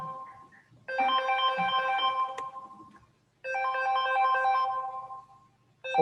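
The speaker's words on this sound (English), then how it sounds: "I'm going to answer this phone call" A phone ringtone plays two loud, melodic bursts, each lasting about two seconds with a short gap between them, close to the listener in an otherwise quiet room with no talking.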